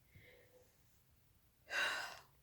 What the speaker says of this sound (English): Sorry, I know yawning's contagious.